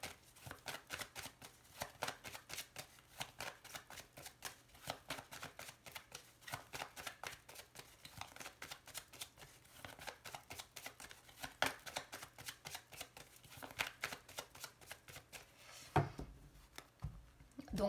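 Lenormand cards riffled and shuffled by hand in a fast, continuous patter of close, soft flicks, keeping up without pause and ending in a few louder taps.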